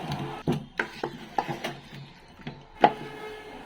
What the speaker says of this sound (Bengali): চিনিটা অল্প অল্প করে দিয়ে চারিদিক দিয়ে এখন ভালোভাবে নেড়ে ছেড়ে আবার মিক্স করে নেব